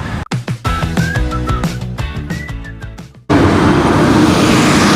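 Traffic on International Drive near Sand Lake Road in Orlando, with a passing car and rumbling engines, followed by a sudden loud, continuous roadway roar close by.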